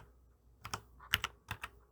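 Someone types English letters and numbers on a computer keyboard to add on-screen text in ZoomIt, producing a quiet, uneven run of about half a dozen crisp keystrokes with no talking.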